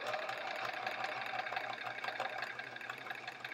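A sewing machine runs steadily through a long straight quilt-top seam, its continuous mid-pitched buzzing whir holding close and loud from start to finish with no pauses.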